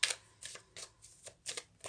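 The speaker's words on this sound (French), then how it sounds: "Comme d'hab, je sors les cartes de chance." Playing cards shuffled for a reading, a run of about six soft, crisp riffling bursts in quick rhythm, close and quiet with no talking.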